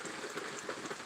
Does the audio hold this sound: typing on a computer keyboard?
no